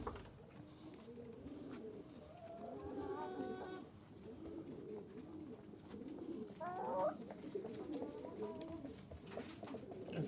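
Pigeons coo softly and repeatedly in a quiet enclosure, low rolling calls overlapping at a distance, with a few faint chirps and slight background murmur.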